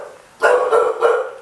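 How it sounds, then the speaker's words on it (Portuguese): A dog indoors in an apartment barks two or three times in quick succession, loud and close, each bark short and sharp with a brief gap between. "Gente, tem um cachorro no apartamento."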